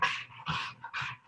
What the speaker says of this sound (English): My dog just rolls around making noises on the ground.